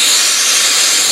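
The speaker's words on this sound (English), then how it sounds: "Just simply heating up the solder that I had already heated up in there" A steady, loud hiss of a flame heating solder on a silver inlay in a deer antler cap, continuous and even throughout with no talking.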